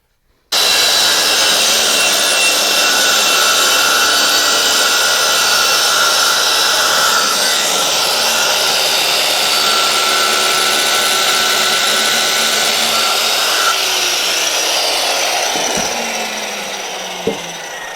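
A power saw rips through a large wood sheet being cut for a coin pusher machine cabinet, a loud, steady buzzing cut that runs for about fifteen seconds before winding down, with a sharp knock near the end.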